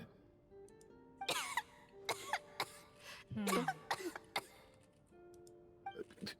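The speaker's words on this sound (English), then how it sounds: "How long have you had that cough, Tonya?" A game character in Genshin Impact coughs several times in short, raspy bursts with pauses between, fairly close, over a quiet background.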